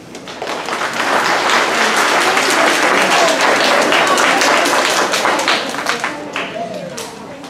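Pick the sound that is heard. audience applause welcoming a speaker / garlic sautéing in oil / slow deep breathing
audience applause welcoming a speaker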